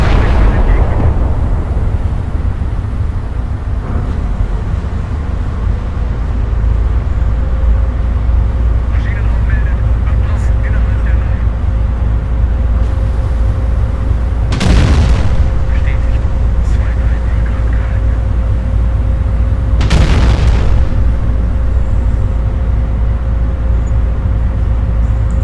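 In the naval video game Battleship Command, an artillery battery fires two heavy booming shots several seconds apart over a steady low rumble, with a voice speaking between them.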